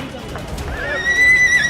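A horse ridden during a Makar Sankranti celebration in Patna gives a high, drawn-out whinny that rises out of noisy outdoor crowd sound and grows louder toward the end.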